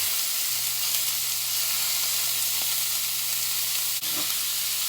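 A pound of ground beef frying in a skillet, a steady loud sizzle with a low hum underneath and one brief stir or scrape near the end.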